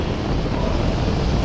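Saturn V rocket engines roar at launch in a loud, steady, broadband rumble, dense and continuous with no breaks and no voices.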